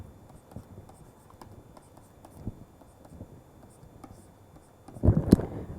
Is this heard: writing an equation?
yes